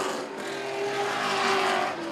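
A race car drives around a speedway during a Camping World Truck Series Affordable 250 race, its engine making a steady high-pitched drone that swells slightly, alone and fairly faint.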